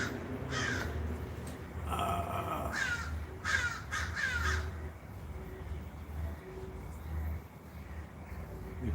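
Several crows caw outdoors, with a short run of harsh calls repeated in quick succession, set against steady background noise and a low hum.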